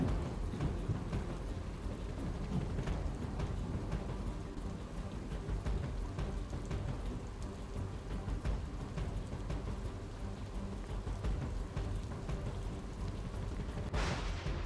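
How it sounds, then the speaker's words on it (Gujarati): Heavy monsoon rain pours steadily across Navsari district in Gujarat, a dense, continuous roar of water hitting surfaces with low rumbling underneath, unbroken throughout. "જલાલપોર, ગણદેવી, ચીખલી, ખેરગામમાં વરસાદ પડી રહ્યો છે।"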